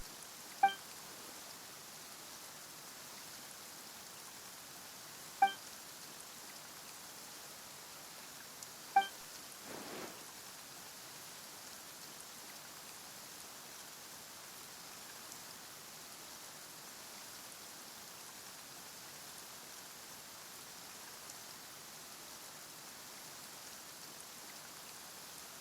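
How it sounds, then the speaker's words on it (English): Steady, soft rainfall with a faint even hiss throughout, a few brief sharper taps standing out early on, no voices. "Why is it raining all of a sudden?"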